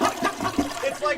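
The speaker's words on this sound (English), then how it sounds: "Water dripping." A water dripping sound effect plays as a short, dense watery splashing and trickling burst, fairly loud and close, with a voice mixed in.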